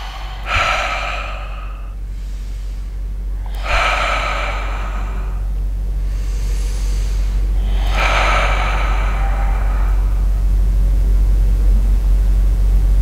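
Slow, deep breaths during a guided meditation, three long airy inhalations or exhalations spaced a few seconds apart over a steady low hum, with no talking.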